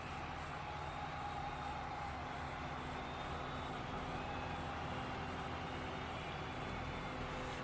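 A Massey Ferguson tractor roars through a tractor pull in Farming Simulator 25, a steady, dense, loud engine drone that holds without a break under faint high whine.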